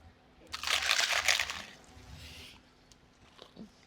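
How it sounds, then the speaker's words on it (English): A single crisp crunch of biting into a snack lands close to the microphone, a burst of crackling that fades into quieter chewing, alone without talk. "you can get the sound of the crunch"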